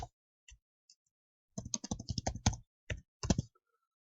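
Keys clack on a computer keyboard, with a few isolated taps followed by a quick burst of rapid typing and two short final clusters, close and clear in a quiet room.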